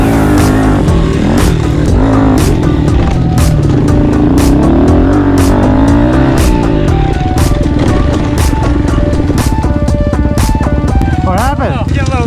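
Honda CRF110 pit bike fitted with a 147cc big bore kit, its engine buzzing and revving up and down close by, sputtering and bogging at times, with voices talking over it.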